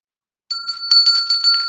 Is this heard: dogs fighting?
no